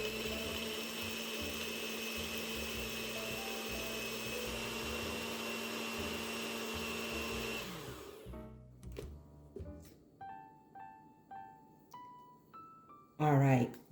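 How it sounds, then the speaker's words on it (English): A blender whirs loudly and steadily for about eight seconds, crushing ice in a cookies and cream protein shake, then cuts off, leaving quieter kitchen clatter and a short burst of noise at the end. "put the lid on it, and we are going to blend this"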